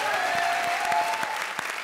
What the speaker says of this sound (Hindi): जोरदार तालियां हो जाए मेरे मालिक के लिए।